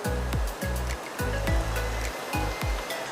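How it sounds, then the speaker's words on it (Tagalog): Heavy rain falls in a steady, dense roar that fills the whole moment without a break. Repeated low thumping pulses sit beneath the hiss, and no one speaks. "Ayan na naman yung ulan, guys."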